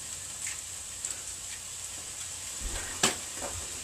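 Two eggs frying on a hibachi griddle give a steady, soft sizzle with faint crackles and one sharper pop near the end, close by with no talking.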